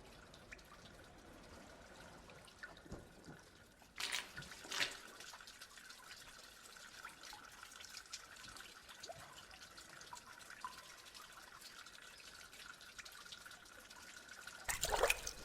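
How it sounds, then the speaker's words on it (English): Water pouring and trickling into a huge hall in the game AGON, a steady low splashing and dribbling with a few sharper splashes and drips rising over a faint ambient hum. "this huge hall is emptied and then filled with water twice a day"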